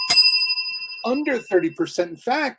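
A bright bell ding rings once at the start and lingers briefly before people begin talking over its fading tail.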